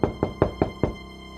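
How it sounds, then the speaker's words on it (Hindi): Five firm, evenly spaced knocks on a wooden door at night, close and resonant, followed by quiet stillness. "इतनी रात गए, कौन दरवाजा खटखटा रहा है?"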